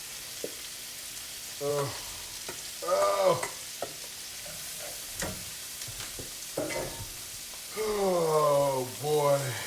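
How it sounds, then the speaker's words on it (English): Corn sizzles and crackles as it sautés in bacon fat with red onion. A steady frying hiss continues under brief stirring scrapes, and a person talks intermittently over it. "So we have corn that we're sauteing, the bacon fat, and the red onion all doing lovely"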